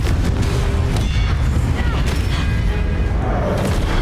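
Blasting Confringo spell in the Hogwarts Legacy video game, heard as a run of loud, dense booming explosions and crackling impacts that overlap continuously through a chaotic magical combat scene.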